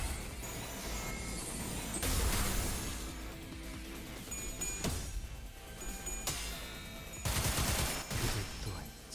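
Magic bullet gunfire in the video game Limbus Company, loud sharp blasts at irregular intervals over a continuous backdrop of game music and effects, no voice over it.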